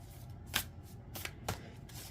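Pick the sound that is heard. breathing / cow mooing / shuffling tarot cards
shuffling tarot cards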